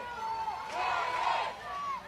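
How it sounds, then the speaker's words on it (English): A softball stadium crowd at a UCF home game cheers and shouts, a lively mass of voices swelling in the middle and staying loud, heard from a distance with a commentator's voice over it. "The most action, the most alive we've seen this crowd for UCF all weekend long."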